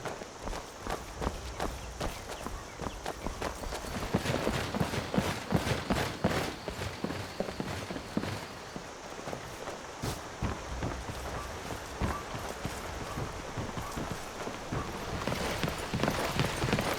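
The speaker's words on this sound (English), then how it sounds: "You can hear his footsteps quite loudly from quite some distance." Loud, heavy footsteps of a follower in heavy armor in Skyrim with an audio overhaul mod, a steady rapid stream of clanking, thudding steps over ambient background.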